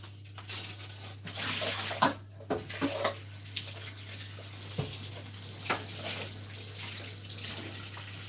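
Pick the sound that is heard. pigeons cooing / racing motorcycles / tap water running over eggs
tap water running over eggs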